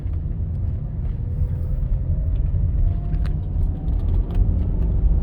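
A BMW E38 740i with a manual gearbox pulling hard under acceleration on the road, a deep steady engine rumble droning throughout, with a faint rising tone drifting upward through the middle, heard from inside the car without speech.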